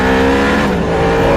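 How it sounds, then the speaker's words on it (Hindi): Cartoon car tearing away at high speed in an animated horror chase, a loud continuous engine roar with tire-like squeal, close and steady throughout before cutting off abruptly at the end. "वह अपनी गाड़ी को बहुत ही तेज भगाने लगता है।"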